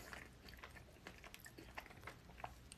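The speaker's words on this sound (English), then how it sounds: "Beams says the chewing is satisfying." Chewing food close to the microphone, faint irregular crunchy bites and soft mouth clicks over a quiet background.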